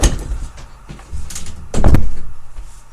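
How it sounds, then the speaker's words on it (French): A door being closed indoors: a few shuffling knocks, then a solid thud as it shuts, with a short rattle afterward, close and fairly loud. "Je ferme ma porte comme ma porte est tout le temps ouverte."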